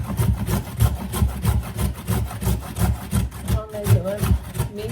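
Carrots grated by hand for borscht: close, rhythmic rasping strokes that repeat steadily, each one a gritty scrape with a muffled knock underneath.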